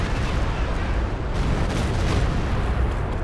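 A Stuka zu Fuss rocket artillery barrage in Company of Heroes 2 gives a dense, continuous rumble of overlapping blasts, loud and heavy throughout with no clear gaps between impacts.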